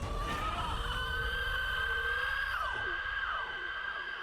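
A scream in the Horizon Zero Dawn video game, a long high wailing cry that holds and then slides downward, loud over game background noise.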